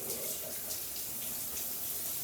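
Rainfall shower head running in a walk-in wet room, a steady broad hiss of falling water spattering onto the tiled floor, continuous and fairly close.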